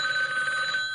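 A telephone rings with a steady electronic bell tone, continuous and fairly loud throughout, with no other sound.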